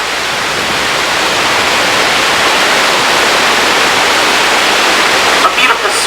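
A waterfall in Hawaii, where a diver performs a 35-foot Acapulco-style swan dive, makes a loud, constant broadband roar that fills the whole stretch, with a brief disturbance near the end.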